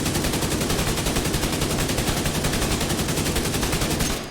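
Kingmaker rifle in Division 2 unloading a full magazine in one sustained automatic burst, rapid evenly spaced shots rattling loud and close for about four seconds before cutting off.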